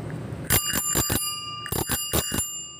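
A Gazelle bicycle's original bell rings in two bursts of three quick metallic dings each, close and loud with a bright sustained chime, no voices.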